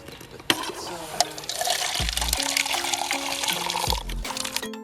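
Water is poured into a cup holding soap, making a steady splashing rush that fills the middle of the clip, with a few low hollow knocks and clinks around it.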